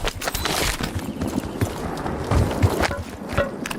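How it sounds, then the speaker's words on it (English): Footsteps of an enemy player in a Call of Duty Warzone battle royale match, a run of quick irregular thuds and scuffs over steady background game noise, close and fairly loud with no talk. "Hearing footsteps."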